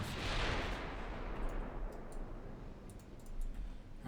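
Long-range warship artillery fire in the naval game Ultimate Admiral Dreadnoughts, a heavy opening boom decaying into a rolling rumble, followed by sparse faint clicks and distant thuds, with no talk.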